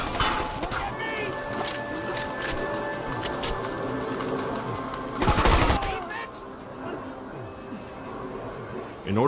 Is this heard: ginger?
no